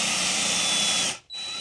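A power drill driving screws into shower board with a slight countersink, a loud steady high whine that cuts out briefly near the end, then spins back up, close and without talk.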